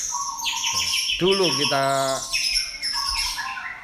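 Lovebird chirping and squawking up close, a run of sharp harmonic squawks and warbling trills, loud and continuous, with a voice briefly speaking underneath.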